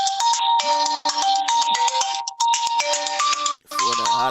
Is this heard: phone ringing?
yes